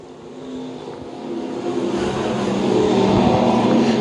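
Stock cars roar around a dirt oval during a race, a dense wash of engine noise that builds steadily louder as the field sweeps past, with no voices over it.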